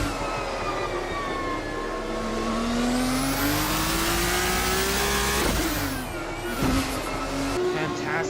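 Race cars from a racing video game lap the Mandalika circuit in Lombok, engines wailing in rising and falling pitch with layered passes and a brief shifting dip, loud and continuous throughout.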